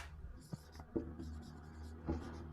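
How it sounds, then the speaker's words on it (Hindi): Marker or pen writing out a math solution for a class 10 lesson, soft scratchy strokes with a few sharper taps as letters are formed, quiet and close, with no speech. "यहाँ मैं लिख देता हूँ"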